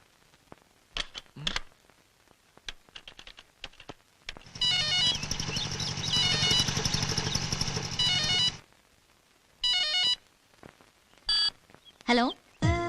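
Cellphone number punched in key by key: a scattering of short tones, then a long steady ringing burst, then a few more separate beeps, fairly loud and close with no talk over them.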